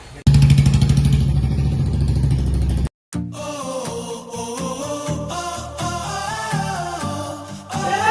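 A Royal Enfield Bullet motorcycle engine runs loud and close, a steady throbbing thump for about three seconds, then after a brief cut a busier stretch of engine rumble mixed with music-like tones and other noise.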